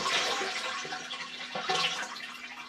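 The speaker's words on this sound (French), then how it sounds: "Donc on va tirer une dernière fois la chasse." A household water toilet is flushed one last time, a close rushing gurgle of draining water that swells, eases and surges again before tapering off, with no talking.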